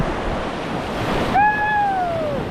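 A big ocean wave crashes onto a beach in a steady broad wash of surf and wind, with a brief whistling tone cutting in partway through.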